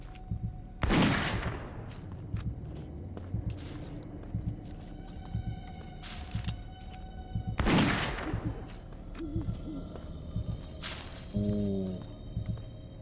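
Gunfire in the Witch Hunt video game, with two sharp loud shots several seconds apart, each ringing out with a decaying tail, over low ambient hum and scattered small clicks.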